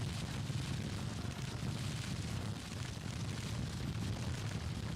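Civil War artillery fires in the Grand Tactician video game as a dense, low, continuous rumble of distant booms blending into a steady battle din.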